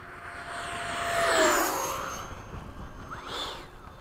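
A Freewing 90mm F-22 RC jet makes a low pass, its turbine whine swelling to a peak and then dropping away, followed by a second shorter whoosh as it passes.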